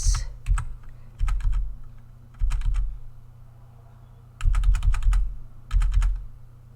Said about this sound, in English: Yes, I'm tapping keys on my keyboard.